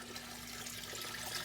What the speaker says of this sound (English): the water from the python just kind of running across the top